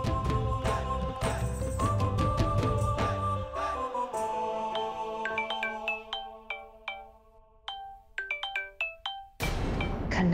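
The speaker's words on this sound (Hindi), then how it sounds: "खन्ना जी का फोन?" A phone ringtone plays a bright, repeating electronic melody during a Hindi TV drama scene, loud and steady at first, then thinning into sparse plinking notes before a burst of fuller sound at the end, with no talk over it.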